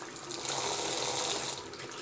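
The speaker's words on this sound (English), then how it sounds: "Water is definitely flowing through that filter very easily" Water from a sink tap runs steadily through a Sawyer SP134 tap filter, a close, bright hissing rush that swells slightly and then eases, with no voices.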